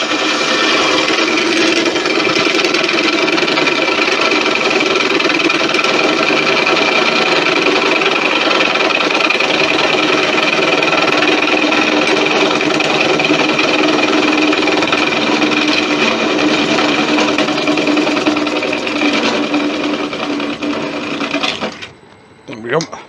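Wood lathe spinning a Thai Redwood vase with a vase insert, a loud, steady motor whir and tool hiss held for about twenty seconds before it winds down at the end.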